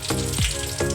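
Curry leaves hit hot oil with dried red chilli and mustard seeds in a tempering for khaman, giving a loud, close, crackling sizzle with sharp spattering pops.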